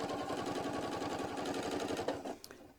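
A sewing machine runs steadily at close range, its needle chattering in a fast even rhythm while stitching a basting stitch along the edge of fabric strips, then slows and stops.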